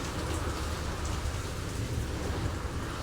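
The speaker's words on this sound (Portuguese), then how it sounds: "olha a chuva que tá lá fora" Heavy rain pours steadily outside on a Saturday afternoon, a dense, even wash of drops with no talk, constant and fairly close.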